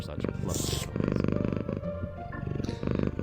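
A cat purring in the video game Scott Whiskers: The Search of Mr. Fumbleclaw, a loud, close, rhythmic rumbling purr in repeated breaths, with a voice talking over part of it.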